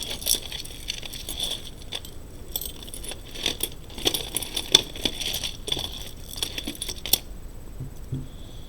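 Small glass beads clink and tick together as they are handled, a steady run of light, close, bright clicks and rattles with no talking.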